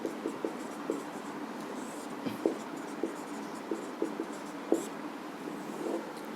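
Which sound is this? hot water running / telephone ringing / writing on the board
writing on the board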